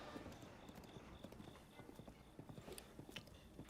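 Horse hooves gallop steadily in Breath of the Wild, a rapid rhythmic clip-clop that stays faint and even throughout with no talking over it.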